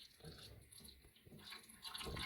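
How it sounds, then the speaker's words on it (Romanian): Descaling solution pours into the water tank of a Delonghi ECAM 23.460 coffee machine, a soft, continuous trickle and splash heard close up and faint, with no talking over it. "o să turnăm soluție până la punctul A"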